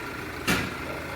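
A car engine idles roughly with its cam position sensor unplugged, giving a steady, close mechanical rumble with one brief surge partway through.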